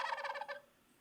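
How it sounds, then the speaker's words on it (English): A wild turkey gobbles in the woods, a fast rattling burst of roughly five pulses lasting about half a second, fairly loud and near, then trailing into quiet. "You'll hear other bird songs, but then that gobble comes up."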